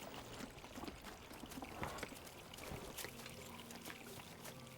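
Water pouring and trickling from a fountain, a steady faint splashing flow with small irregular drips and bursts, fairly quiet and distant, with no talk over it.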